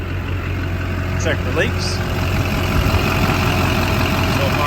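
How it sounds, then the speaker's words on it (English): A 2001 GMC 2500HD pickup's engine idles with a steady low rumble close by, while someone speaks briefly over it in a garage setting. "The engine is running."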